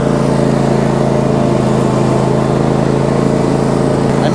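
A John Deere GX255 riding mower's engine runs loud and steady, holding a constant throttled drone close by with no talk.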